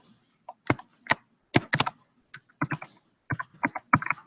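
Keystrokes on a computer keyboard while writing Java code, irregular clusters of crisp, close clicks separated by short pauses.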